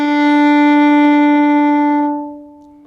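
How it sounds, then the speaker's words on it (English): A bowed fiddle sounds a single sustained open D note, steady and clear with rich harmonics, held for about two seconds before fading into room decay; no talking. "the first note, a D."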